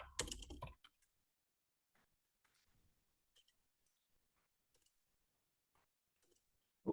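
Typing on a computer keyboard, sparse faint key clicks scattered in short bursts after a brief louder noise, quiet and near in an otherwise silent room.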